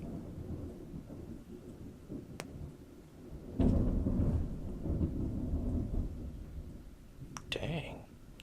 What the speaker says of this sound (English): That was a huge peal of thunder.